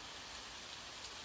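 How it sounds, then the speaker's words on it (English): Steady gentle rain patters outside, an even, continuous hiss of drops with no voices. "allow the gentle patter of rain outside to lull you deeper into relaxation"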